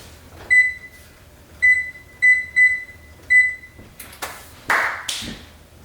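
An oven's control panel beeps as it is set to preheat to 400 degrees: five short, bright electronic beeps in an irregular sequence, close and clear, followed by a few clunks and rustles of handling.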